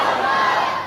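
A crowd at a religious gathering celebrating Eid Milad un Nabi shouts back in unison to the Naara-e-Takbir slogan, a brief, loud collective roar.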